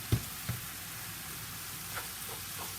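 Roughly chopped Serrano pepper hitting a hot pan with steak and potatoes, a steady soft sizzle with a couple of sharp taps near the start as pieces drop in.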